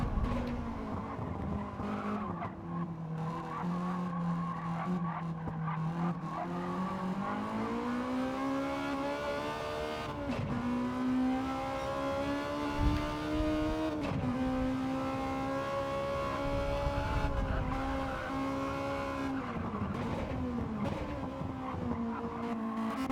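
Onboard a Honda Civic race car in a GTO Spec race at Streets of Willow, the engine drones loudly and steadily, its pitch climbing and dipping through gear changes, with occasional tire squeal and no talk.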